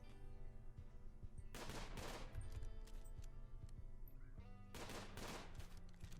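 Faint gunfire from the colony game Rimworld: two rapid bursts of shots about three seconds apart, set over a quiet tonal music bed.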